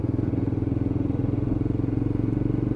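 Lexmoto LXR 125cc Euro 5 motorcycle under way, its small single-cylinder engine giving a steady, close, pulsing drone with an even rhythm that holds throughout, and no talking over it.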